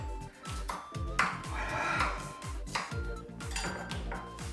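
Repeated light metallic clinks and pings, like a pot lid tapping against a pan, ringing briefly in an irregular rhythm at moderate volume.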